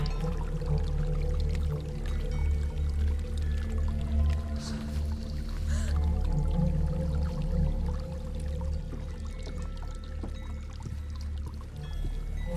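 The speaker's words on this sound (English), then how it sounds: "There's a waterfall." Steady rushing water from a waterfall in the dark fantasy game Hellblade: Senua's Sacrifice, a dense continuous low roar that stays loud and unbroken throughout without speech.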